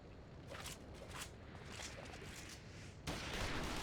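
Scattered gunfire in Final Fantasy XIV: irregular sharp shots over a busy ambient bed, then a louder, denser burst near the end.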